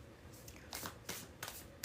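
A deck of tarot cards being shuffled, three quick riffling bursts close up, with no talking.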